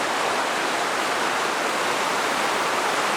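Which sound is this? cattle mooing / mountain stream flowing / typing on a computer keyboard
mountain stream flowing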